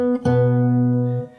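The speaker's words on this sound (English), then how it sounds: "you have the open G string" A single open G string rung on an acoustic guitar during a fingerstyle lesson for a song, one clean plucked note sustaining steadily for about a second before fading, alone with no talk.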